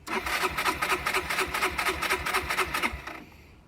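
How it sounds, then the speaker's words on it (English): A Yamaha Vino 125 scooter with bad fuel cranks without catching, its starter whirring in a fast, steady rhythmic churn close by for about three seconds before cutting off. "So as you can see, it's still not going to start."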